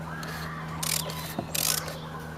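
A ratchet clicks in short bursts as it snugs the oil drain plug on a 2014 Ford Focus Mk3 1.5 TDCi diesel, two close rapid clicking runs over a steady low hum.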